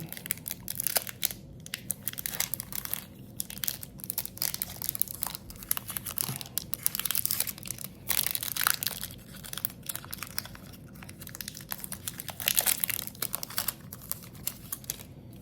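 Close crinkling and tearing of the foil wrapper on a Final Fantasy Magic: The Gathering booster pack, with dense rustles and crackles and no talk.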